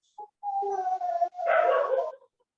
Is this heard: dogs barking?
yes